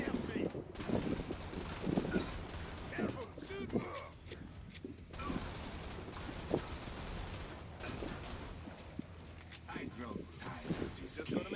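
Gunfire from a weapon in the video game Killing Floor 2, heavy repeated shots and bursts running through the whole stretch, loud and close, with someone talking over it.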